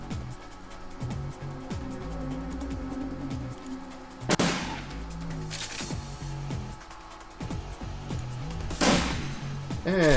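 Shotgun blasts ring out in the Shadowrun video game, two big booming shots a few seconds apart over a constant bed of rapid gunfire and thumping combat noise.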